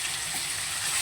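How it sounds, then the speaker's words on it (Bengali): Potatoes frying in a pan until browned, a steady, soft, hissing sizzle with a watery crackle, close and continuous with no talking. "তো এবার আলুটাকে বাদামি বাদামি করে একটু ভেজে নেব"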